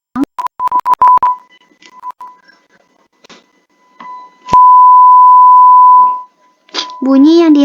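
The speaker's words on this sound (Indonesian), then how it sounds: "Bunyi yang dihasilkan cukup keras tetapi tidak sekuat amplitudo maksimal." A steady pure test tone at medium amplitude plays in a sound wave experiment, holding evenly for about two seconds after scattered short beeps, then a voice speaks briefly.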